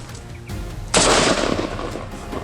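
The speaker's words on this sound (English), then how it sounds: "I raised my rifle and squeezed the trigger in one smooth motion." A single loud rifle shot fired at a wild boar cracks out close by, followed by a rolling boom that fades slowly.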